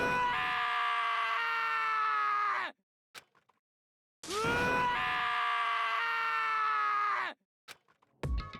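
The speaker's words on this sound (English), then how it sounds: "As Taka's sad screams invaded our skulls" Taka screams in sorrow in the video game Danganronpa: Trigger Happy Havoc, two long, loud, sustained anguished cries with a short pause between them, and no talking.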